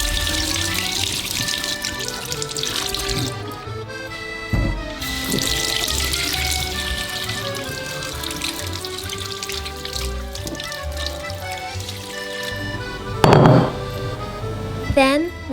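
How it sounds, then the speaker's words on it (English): Courgette, eggplant and other vegetables rinsed under a running kitchen tap, water splashing steadily with clinks of produce and handling, a louder burst near the end. "we are going to clean the ingredients in order to remove the bacteria on the outside of the veggies"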